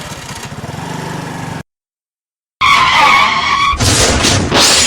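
A car skids on the road and then rams into the back of another parked vehicle. A loud engine rush and scraping screech are followed after a short gap by a harsh, close crash with metal clatter.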